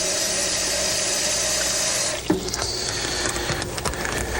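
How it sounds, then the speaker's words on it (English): Water running from a tap into a bag holding deer tenders, a steady close rushing stream that shifts to a rustling, gurgling fill partway through. "we're gonna get us a little water in that bag"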